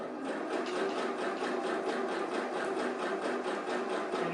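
A sewing machine hums and chatters in a fast, even rhythm while stitching a zigzag along a fabric edge, close and steady throughout with no voices.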